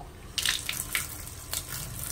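Water sloshes and splashes in a bucket as a rugged smartphone is submerged, a few short wet bursts close by against a low steady hum.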